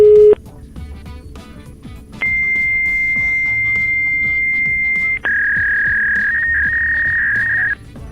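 A fax machine's dialing tones: a short beep, then a long steady high tone, followed by a warbling handshake tone, loud and up close over a faint background bed.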